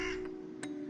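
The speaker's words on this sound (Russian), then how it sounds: "Это был черный ворон." A black raven gives short harsh caws, one strong call up front and a second fainter one shortly after, close and clear over a quiet background.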